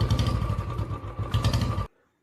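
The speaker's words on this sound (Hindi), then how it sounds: "यह तो उसी की मोटरसाइकिल की आवाज़ है" A motorcycle engine runs close by with a rough, pulsing chug and mechanical clatter, dipping briefly midway before surging again, then cutting off abruptly into near silence.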